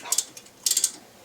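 Combination wrench ratcheting and clicking as a tight bolt is broken loose on a 1999-2001 Volvo S60 during front wheel bearing work; two short bursts of metallic clicks, close and fairly loud, with no talk.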